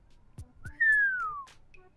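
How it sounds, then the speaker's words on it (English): A person whistles one soft descending note under their breath, brief and close, preceded by a couple of small breathy sounds in an otherwise quiet room. "I whistle under my breath."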